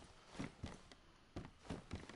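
Shuffling, thudding movement of a zombie in the next room in the video game DayZ, a handful of uneven muffled steps spread across a couple of seconds.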